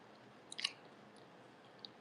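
Close, quiet chewing of breakfast food while tasting it, a few soft crunchy bites bunched together and one more later, otherwise near silence.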